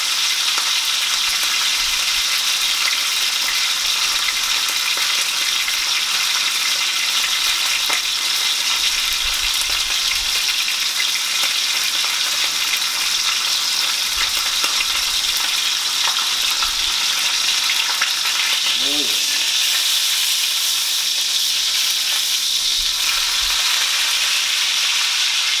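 A rib eye steak searing in a hot pan, a loud, continuous frying sizzle that holds steady throughout with faint crackles and no talking.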